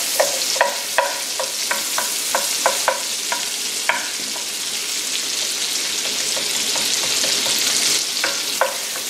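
Garlic cloves and onion sizzle steadily in a frying pan while a utensil scrapes and stirs at intervals, the crackling loud and close with no one talking.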